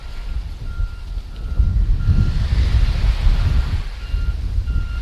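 Calm sea water on a Key West beach on the south side near the airport, heard as a steady low wash of gentle surf mixed with wind buffeting the microphone, continuous and without voices.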